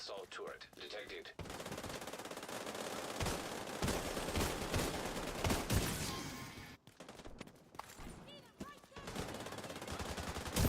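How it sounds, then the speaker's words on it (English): Hostile assault turret gunfire in The Division 2, dense sustained automatic fire rattling continuously for several seconds, breaking off briefly, then resuming with scattered shots and game effects. "Hostile assault turret detected."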